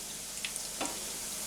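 Ground turkey meatballs fry in a pan with a soft, steady sizzle, fairly faint, with a couple of light clicks and a small scrape from stirring.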